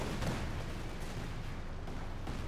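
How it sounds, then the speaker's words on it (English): Strafing fire from an aircraft pounds the ground in Company of Heroes 2, a dense, continuous rumble of rapid gunfire and explosions at steady loudness with no voices over it. "We actually just used strafing fire to clear out the Pack 40 there."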